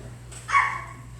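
An audience member at a comedy night imitates a dog bark with a single short, sharp vocal yelp over a low background hum in a room.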